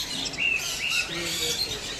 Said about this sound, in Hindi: आपको चिड़िया की आवाज़, अलग अलग बर्ड्स की आवाज़ आती ही रहेगी